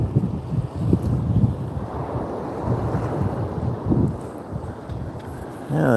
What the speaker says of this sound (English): the wind was picking up a little there